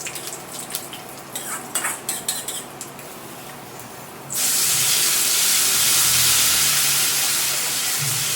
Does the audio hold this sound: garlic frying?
yes